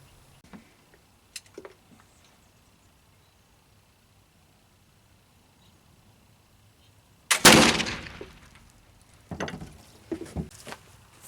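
A shot from a black powder gun loaded with homemade powder, one sharp loud blast at close range, followed by a few smaller knocks and rattles. The rest of the clip is near-silent.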